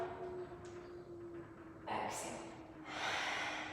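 During a yoga class, a person breathes audibly close by, with two distinct breaths in the second half against a quiet, low background hum.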